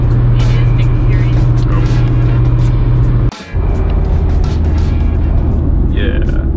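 Car engine and road noise from inside a moving vehicle on a long drive toward a park entrance, a steady loud drone throughout with a brief dip midway, while people talk over it.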